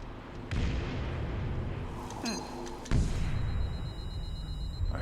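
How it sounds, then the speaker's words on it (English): Grenade blast in Metal Gear Solid 5: a sudden heavy boom near the three-second mark, preceded by a softer thump and gunfire-like bursts amid rumbling game ambience. "I hope that grenade didn't stick to me."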